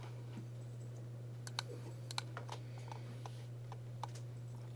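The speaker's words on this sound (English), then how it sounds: "I'm going to just type it all in again" Scattered soft clicks of typing on a computer keyboard, faint and irregular, set against a steady electrical hum in a quiet classroom.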